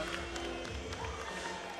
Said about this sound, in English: this crowd is just going nuts for Zander Gabriel